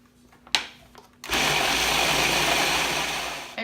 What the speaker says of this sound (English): I'm just going to put the lid back on and blend all this together